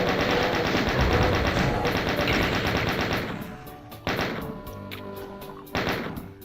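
A chain gun fires at enemies in the video game Doom, a rapid loud stream of gunshots that runs for several seconds, then trails off into a few separate heavy blasts with short pauses between them.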